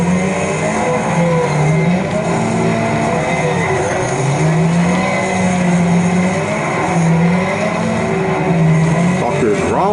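Several race cars in the Wreckfest video game on PS5 roar and rev with steady, loud engine drone and shifting pitch sweeps, while a voice talks over the gameplay throughout.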